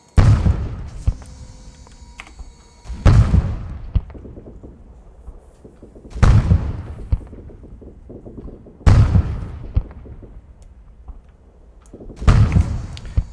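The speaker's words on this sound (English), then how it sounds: "I'm going to start laying down this artillery stuff in here" Artillery shells land in an Arma 3 barrage, giving five heavy booming explosions at roughly three-second intervals, each followed by a long rumbling decay and scattered debris crackle, loud and fairly close.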